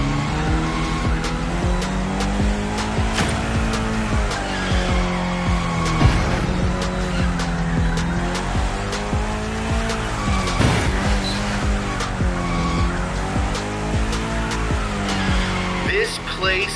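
A car drifts in The Crew Motorfest racing game, its engine note rising and falling over a continuous loud tire squeal that stays dense and steady throughout.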